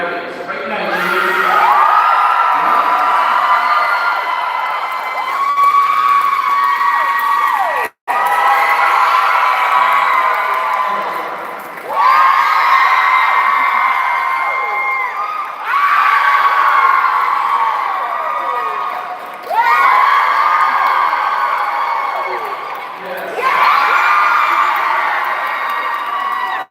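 A convention panel audience cheers in loud, sustained crowd roars with whoops and shrieks. The cheering comes in repeated surges, with brief dips between waves.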